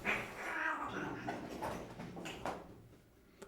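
Domestic cats yowl and caterwaul in a background fight, with drawn-out rising and falling wails and growls at moderate distance, and a few sharp bursts toward the end.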